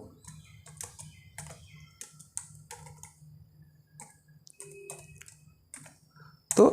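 Someone types Python code on a computer keyboard, tapping out irregular bursts of clicky keystrokes with short pauses between them, close and fairly quiet, and a louder knock comes at the end.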